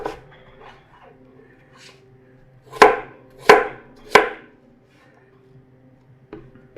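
Knife cutting apples into chunks on a board for an apple crisp: three sharp, evenly spaced chops near the middle, with a softer tap at the end, close and fairly loud over quiet background.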